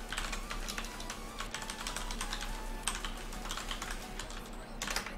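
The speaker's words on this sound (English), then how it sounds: "I'm so bad at typing" Rapid keystrokes on a computer keyboard, a steady clatter of close, crisp clicks with short bursts and pauses, continuing without speech over a low background hum.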